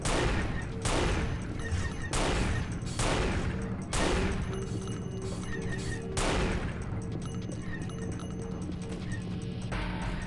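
Rifle fire from the Unreal shooter game cracks in loud repeated bursts roughly every second or two, each shot sharp and close over a constant busy game backdrop.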